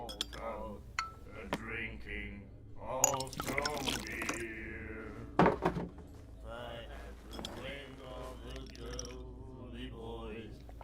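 In the Call of Cthulhu video game, a drink is poured into a glass with clinks and liquid sounds mixed under ongoing conversation and background ambience.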